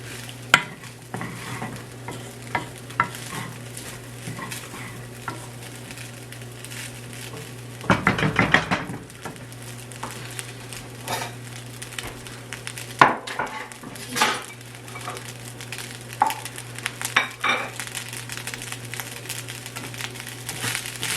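Fried rice stir-fried with soy sauce in a pan, a continuous sizzle under busy scraping and clattering of a spatula against metal, with a louder burst of frying partway through and no talk.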